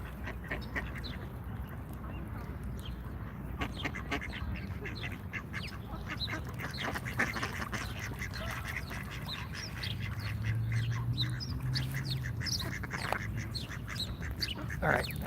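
Ducks quacking outdoors in a Washington, DC park, small birds also chirping, a steady mix of repeated quacks and calls over continuous ambient background noise, fairly close and moderately loud throughout.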